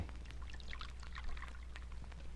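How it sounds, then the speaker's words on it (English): A guest's coffee is poured out in a hotel room, with a soft, steady pour and trickle over a low background hum for a couple of seconds. "I'm going to pour for you"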